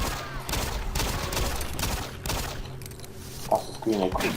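An enemy's pistol fires in the co-op campaign of Doom 3, with repeated sharp shots cracking through busy game noise while voices talk over the action.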